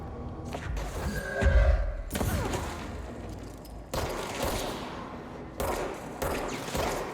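Objects hurled against walls in the video game Control, producing a string of heavy thumps and crashing impacts with rumbling debris, several loud hits spaced across the stretch.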